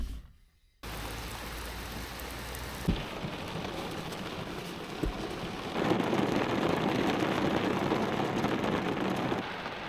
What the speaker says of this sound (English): the rain started getting a lot more intense